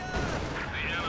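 Gunfire and explosions crack through a Company of Heroes 2 battle as a Sturmpanzer attacks a field gun, a loud, dense burst of shots and booms under a continuous game soundscape.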